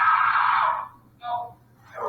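A New York teenager, restrained face down with a helmet on his head, lets out loud, strained screams for help: one long cry, then shorter anguished wails after brief pauses.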